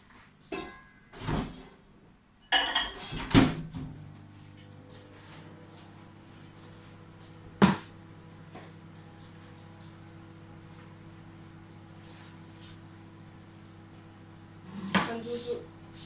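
Melted butter is stirred in a pan with a utensil, giving intermittent scrapes and metallic knocks amid a low steady kitchen hum, with a few louder clanks near the start and end.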